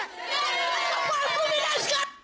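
Football supporters sing together in the stands at Laranjeiras stadium during a Fluminense match, a steady massed chant with dense crowd voices that carries on for about two seconds before fading.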